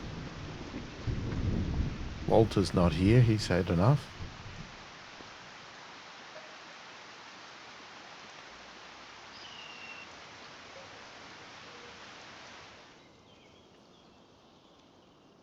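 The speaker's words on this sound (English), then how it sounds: "Plus, it's raining anyway." Steady rain hisses throughout with a deep thunder rumble in Farming Simulator 25, while a person talks briefly near the start before the rain carries on alone.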